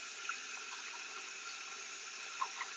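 Steady hiss of a water leak picked up through an AT-407N acoustic leak detector at high sensitivity, a continuous faint rushing with a couple of tiny clicks.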